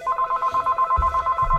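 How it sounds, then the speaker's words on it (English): A telephone rings with a rapid electronic warble, steady pulsed bursts of a high tone repeating through the whole stretch in a workshop where someone is measuring power from a local radio station, with faint low rumbles underneath. "The phone's got to ring right when I'm doing this."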